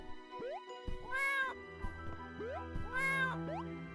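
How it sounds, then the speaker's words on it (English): A cat meows repeatedly in a video game, several rising, tonal calls spaced out over steady background music, clear and fairly close. "I hear the kitty cat noises."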